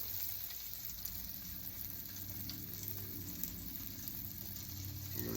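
Eggs fry in a pan with a faint, steady sizzle and crackle that runs throughout, quiet and close, with no talking.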